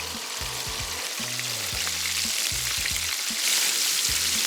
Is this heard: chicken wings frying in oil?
yes